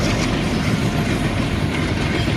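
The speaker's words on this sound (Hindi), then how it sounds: "इतनी बड़ी बड़ी रेलगाड़ी जा रही है।" A long freight train rolls past nearby with a loud, continuous rumble and rattling wagons, a steady heavy roar throughout.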